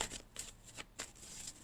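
Tarot cards being shuffled for a reading, a quiet series of soft papery riffles and flicks in several short bursts, close and faint with no talk.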